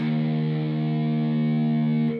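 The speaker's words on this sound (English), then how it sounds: "I'm going to take my pick and I'm going to drag it in a downward motion across all 6 strings" A heavily distorted electric guitar, pick raked downward across all six muted strings, holds the open low E note, ringing loud and steady before cutting off.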